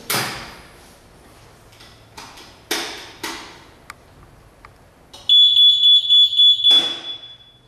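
An access-control door with an electromagnetic lock: a few clicks and knocks, then a loud, rapid series of high electronic alarm beeps lasting about a second and a half, which stop abruptly.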